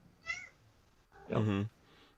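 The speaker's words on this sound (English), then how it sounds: "Sounds like someone's cat." A cat gives two meows nearby: first a short, thin one, then after a pause a louder, longer, drawn-out cry.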